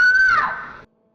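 A blood-curdling horror-film scream, a single loud high-pitched shriek held for under a second that bends downward before cutting off into silence.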